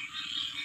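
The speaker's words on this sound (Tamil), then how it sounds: "சுற்றி வர தவளை வேறு கயமேன்னு கத்துது" Frogs croak in a steady, continuous chorus at night near a boat house during a cyclone, the calls close and unbroken, with no voices present.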